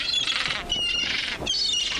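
Seagull squawks in the video game Dimhaven: a few shrill, harsh calls in quick succession, each with a wavering pitch, close and clear with no voices over them.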